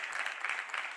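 Crowd at a 10-ball pool World Cup match in Qatar applauding, a steady dense wash of clapping at moderate level throughout.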